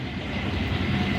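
The Arctic train from Norway to Stockholm, Sweden rolls on with a steady, loud low rumble and broad rushing noise, heard briefly and continuously.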